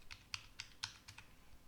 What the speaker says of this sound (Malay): kalau kita masukkan password guna keyboard